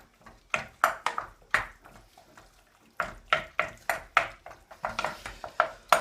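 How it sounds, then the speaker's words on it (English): A utensil repeatedly scrapes and clinks against a metal pan while lasagne mince is chopped and mixed, in quick close bursts of clattering strokes with faint sizzling. "we're going to chop all of this up and get it all mixed in"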